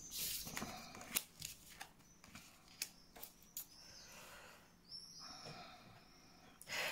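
Tarot cards flipped and shuffled on a table during a Gemini and Libra summer reading, giving a series of soft, quick papery snaps and rustles with brief pauses, close and fairly quiet, with no talking.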